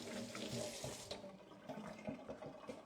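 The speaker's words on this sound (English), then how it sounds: "I'm going to wash my hands quickly." Tap water runs steadily into a sink as hands are washed in a kitchen, a continuous splashing stream with small bursts and fluctuations, close and moderately loud with no talking.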